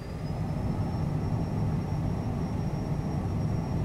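A simulated CJ4 business jet rolls down the runway for takeoff. A steady broadband engine roar and rumble holds at an even loudness, with a faint high whine rising gently above it and no voices.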